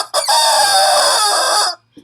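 A rooster crows once as a loud, close sound effect, a long strained cock-a-doodle-doo that ends abruptly, followed by a brief trailing noise.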